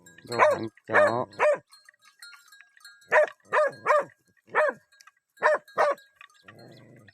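A dog barks in repeated bursts, first three quick barks, then a pause, then a longer run of sharp barks spaced about half a second apart, fairly close and clear over a quiet background.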